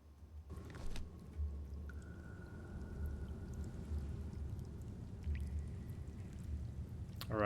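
Water drains and sinks away in the puzzle game Call of the Elder Gods, a low steady rushing gurgle with a faint tonal hum and occasional clicks, soft and continuous.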